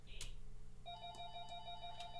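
A faint electronic phone ring trills in repeated short bursts somewhere in a room, low behind a steady background hum, with no one talking.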